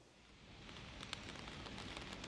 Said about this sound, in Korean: 이곳 서울 광화문 광장에도 제법 굵은 빗방울이 떨어지고 있는데요